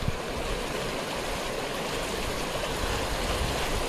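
A river flows along steadily at a crossing point on a forest trail, a dense, even rush of moving water heard close and alone.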